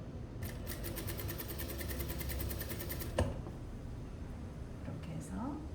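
A sewing machine stitches the neckline of a summer V-neck dress, running in a steady rapid mechanical whir that continues throughout with a brief thump partway, while a person talks over the sewing.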